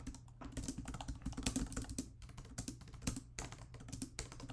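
Someone types a prompt on a computer keyboard in quick irregular bursts of soft clicking keystrokes, close but quiet, with short pauses between runs and no talk.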